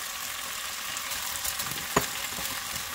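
Pork and mung beans sauté in a pan for Filipino-style ginisang monggo, giving a steady close sizzle with a brief clatter of stirring near the middle and no voices.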